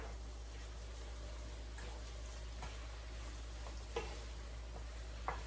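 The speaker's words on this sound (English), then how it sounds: "So now I'll put in the roasted pepper, and I'll mix that in too." Roasted pepper is stirred into a sofrito of garlic and onions frying in a pan, a soft steady sizzle with a low hum beneath and a few faint scraping clicks of the spoon, no talk.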